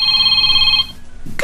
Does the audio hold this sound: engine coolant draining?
no